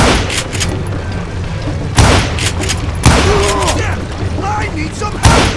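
Gunfire crackles through a Wild West shootout in Call of Juarez: Gunslinger, with sharp loud shot bursts near 2, 3 and 5.3 seconds over a steady background din. Someone speaks partway through.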